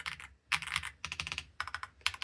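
Typing on a Womier SK71 mechanical keyboard: quick bursts of clacky keystrokes in four or five clusters with short pauses between, close and fairly loud, no voices.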